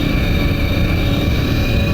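In BeamNG.drive, a modded ME262 fighter jet takes off with a loud, steady, broadband engine roar and rumble that holds constant throughout, with no voices over it.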